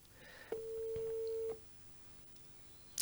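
An outgoing phone call to someone who does not answer produces a single steady ringback tone lasting about a second, followed by near-silence and a brief click at the end.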